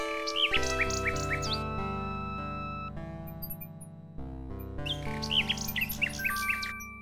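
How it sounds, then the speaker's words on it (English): A nightingale sings in the video game King's Quest VI, with bright warbling phrases in two bursts, at the start and again near the end, over a steady synthesized music bed. "A nightingale perches on a high branch of the tree. She sings the most beautiful song Alexander has ever heard."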